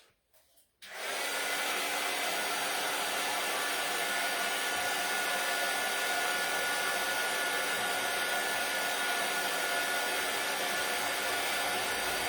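A blow dryer drying paint on a spring decor piece starts after a brief quiet moment, then gives a steady, loud, close whoosh that runs without a break, with no talking.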